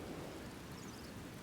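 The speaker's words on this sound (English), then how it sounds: "I did decide to fight in the rain" Steady rainfall drums over a battlefield in the Medieval Total War video game, forming a dense wash of noise with a low rumble beneath.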